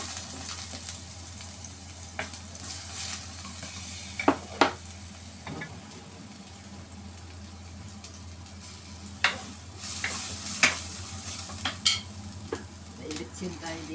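Onion and ginger sautéing in a pan, with a steady low sizzle, scattered clicks and scrapes of a utensil stirring, and a few sharper clinks of metal against the pan.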